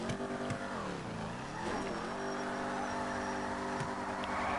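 Ford Mustang with a heavy clutch and an MSD 2-step, running without nitrous, makes a hard full-throttle pull. The loud engine note sweeps down and then climbs steadily again, close and continuous, with no talking.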